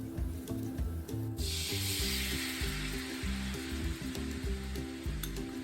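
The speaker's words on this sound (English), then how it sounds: "so please add the sauce." Sauce poured into a hot pan over browned food, bursting into a loud hiss that stays sizzling steadily, close up, with soft background music beneath.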